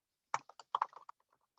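Quick, light clicks of a computer keyboard as a Python script is typed, about a dozen soft keystrokes in an uneven burst that trails off, close and quiet.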